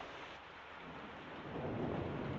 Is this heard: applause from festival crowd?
no